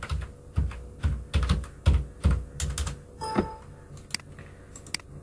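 Keys clatter on a computer keyboard in short bursts of typing, close and distinct, with clicks spaced irregularly and pausing near the end as HTML code for an index file is written.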